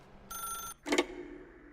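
A telephone in the Stanley Parable video game gives a short burst of electronic ringing, followed by a louder, brighter ring pulse, close and clear with no voices.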